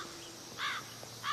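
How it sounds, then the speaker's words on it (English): A crow caws twice in a film scene, two short harsh calls spaced apart over quiet background ambience, moderately near and alone without talk. "The Crow was a paid actor."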